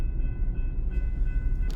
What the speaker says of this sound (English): Train.